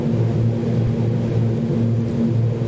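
A King Air turboprop touching down in the Alps in a flight simulator, a steady droning engine hum with tonal whine holding level and loud throughout, no talk.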